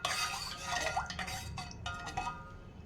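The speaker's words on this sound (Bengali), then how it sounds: "দিয়ে আমি ভালো করে মিক্স করে নিচ্ছি" A spoon stirs salt and asafoetida into warm water in a bowl, producing a run of light clinks and scraping swirls against the bowl, close and fairly quiet, with no voices.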